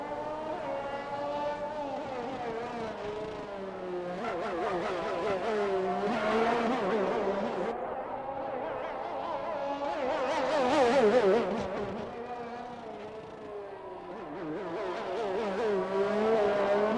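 Race car engines lapping the Bahrain circuit in a racing video game, a sustained high-revving whine that climbs and drops through gear changes, with a faint tyre squeal and a steady, moderately loud drone.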